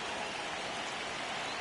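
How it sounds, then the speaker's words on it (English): Steady rain pours across a baseball field in MLB The Show 26, an even, faint hiss with no talk over it. "the field's not going to be able to hold up if the rain gets any worse than this"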